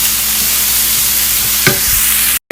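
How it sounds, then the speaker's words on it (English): Vegetables sauté in a deep skillet with a loud, steady sizzle close by, broken midway by a brief scrape of stirring before cutting off abruptly. "I'm going to add all our veggies and saute them until they become nice and soft, almost caramelized."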